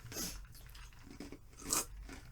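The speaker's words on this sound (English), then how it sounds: "so you heard that crunching sound" Someone chews ice, producing two sharp crunches close to the mic, one near the start and a louder one later, with quiet mouth noise in between.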